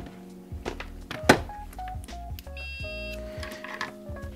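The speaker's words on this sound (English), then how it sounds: "So you hear that beep? That's from touching two contacts that would talk" A multimeter set to continuity beeps as its probes touch two contacts on a Game Boy circuit board, giving short electronic tones at shifting pitches with a sharp click near the start, close and clear.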